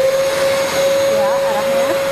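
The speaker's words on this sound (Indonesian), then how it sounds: "Membersihkan lantai, dinding di ruang transfer dengan menggunakan vacuum cleaner" A vacuum cleaner runs steadily on the floor and walls of a transfer room, a loud continuous whine with a strong sustained tone throughout, under faint background voices.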